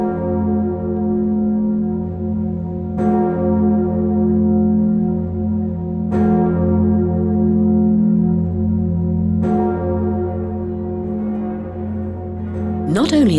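Notre Dame cathedral's great bell, pitched in F sharp, tolls three times at even intervals, each deep strike ringing out into a long humming decay under a continuous low drone.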